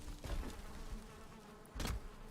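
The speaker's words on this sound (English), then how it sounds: "I just hit the bees. They're probably not happy anymore." An angry bee swarm in the video game Valheim, struck by a log, buzzes in rough, noisy bursts with a louder surge near the end.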